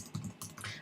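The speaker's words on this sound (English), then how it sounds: "Notice with my text tool, if I start typing, it'll type over him." Quick taps on a computer keyboard, a short burst of a few close, crisp keystrokes with no voice over them.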